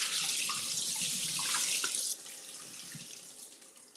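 Water pours out of a pot of rinsed rice, a loud splashing rush that runs for about two seconds and then eases into a quieter trickle and drain, with no voices.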